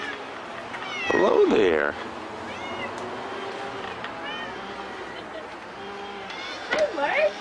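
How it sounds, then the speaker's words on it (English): A cat meows to be let in, with a loud drawn-out meow early, a faint mew later and another meow at the end, amid people talking nearby. "The kitty wants to come in."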